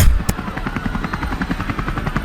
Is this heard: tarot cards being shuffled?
no